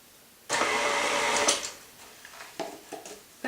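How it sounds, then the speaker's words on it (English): Electric kitchen mixer whirring through cookie dough as nuts are mixed in, a loud steady motor drone that starts abruptly, runs about a second, then fades into a few short bursts and clunks. "I turn on the mixer and let it mix a little bit."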